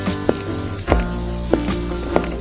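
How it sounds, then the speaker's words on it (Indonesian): Nasi goreng fries in a pan with a steady sizzle, punctuated by several sharp scraping or tossing clicks at regular intervals. "Kamu pasti lagi masak nasi goreng ya?"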